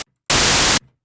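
A burst of white noise synthesized in Harmor, a loud flat hiss that switches on abruptly, holds steady for about half a second, then cuts off, leaving silence.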